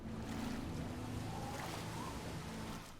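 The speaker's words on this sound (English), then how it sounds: "Beautiful waterfall over here." Waterfall in the video game Oblivion, a continuous broadband rush of falling water with a soft low hum beneath, moderately quiet and steady before easing off at the end.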